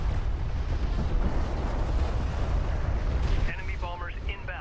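Railguns fire in Homeworld: Deserts of Kharak, a heavy continuous rumbling barrage of booming shots that eases off as a voice starts talking near the end.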